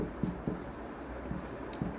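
Chalk or marker scratches across a board in a maths lesson on triangles, with short rhythmic strokes and taps at close range, quiet, with no voice over them.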